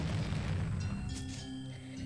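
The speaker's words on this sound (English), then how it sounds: "That's a fucking punch. Jesus Christ, it sounded like an explosion." Punch impact effect in the Higurashi visual novel, so heavy it resembles an explosion: a loud, booming low-frequency hit that rumbles and slowly fades over about two seconds, with a brief crackle partway through.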